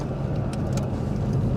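An electric-converted Classic Mini on a lap, giving a steady close road rumble with tyre and motor noise and no clear engine revving.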